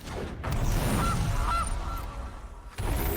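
Goose honks in the Magic: The Gathering game sound effects: two short nasal honks in quick succession, close and clear, over low background rumble.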